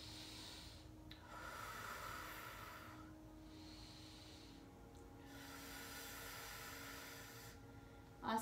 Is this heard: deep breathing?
yes